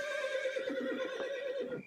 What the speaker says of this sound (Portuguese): o mensageiro montou em seu cavalo e voltou pelo mesmo caminho que veio